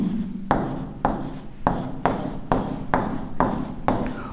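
Notes being written by hand during a lesson, likely chalk or pen on a board: repeated firm scratching strokes, about eight in a steady rhythm, loud and close with no talking.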